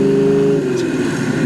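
A 1967 Chevrolet Camaro on staggered wheels and tires runs at a steady, loud engine drone while driving over a bumpy road, with the rumble holding constant throughout and no voices.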